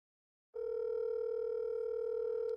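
A telephone line tone sounds while a call waits to be picked up, one long steady electronic tone starting after a brief silence and holding without a break.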